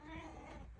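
Nefertiti the cat lets out a single short, close meow with a clear tonal wail, fairly quiet and alone.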